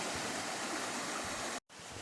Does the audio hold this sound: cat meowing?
no